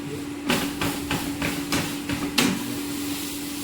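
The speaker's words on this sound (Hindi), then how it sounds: "साग को पीट लेते हैं" Cooked saag greens are beaten in a pot with a wooden masher, giving about seven rhythmic thuds at a steady pace under a constant low hum.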